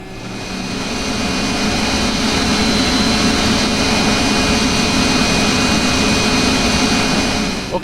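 MD-80 jet engines spooling up in the X-Plane 10 flight simulator during taxi toward a runway at Los Angeles, a loud rising whine and roar that builds, then holds steady with a tonal hum.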